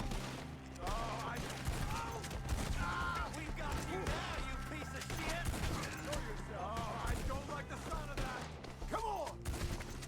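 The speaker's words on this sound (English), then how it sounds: "I love this fucking shotgun." Shotgun blasts boom repeatedly in the video game Red Dead Redemption 2, loud shots amid a busy firefight with other gunfire, thuds and crashes, and voices shouting underneath.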